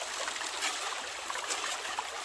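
Stream water rushes steadily through a gold prospecting sluice box, a close, continuous bright hiss and splash with faint gurgles, no voices.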